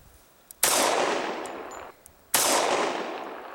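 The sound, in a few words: pistol gunshot hitting a fedora target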